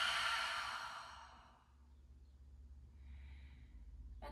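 A deep open-mouthed exhale at the close of a yoga breathing practice, a long breathy whoosh that fades over about a second and a half, followed by quiet room tone and a faint soft breath.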